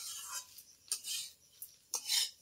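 Rice being stirred and mixed in a metal pan with a spoon, giving a few soft scrapes and light clinks spread over a couple of seconds, close by and fairly quiet with no talking.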